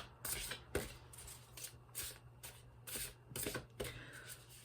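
Tarot cards are shuffled and drawn in a quiet room, a series of soft riffling swishes and light slaps coming in irregular bursts, close and faint.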